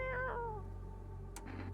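A cat character in a video game meows twice in quick, rising-and-falling calls, fairly clear against a steady low background hum, followed by a brief softer rustle.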